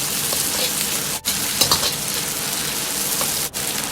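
Lamb sizzles loudly as it is stir-fried with smashed garlic cloves in a wok of medium-hot oil, a dense continuous crackle with brief dips as the pan is tossed.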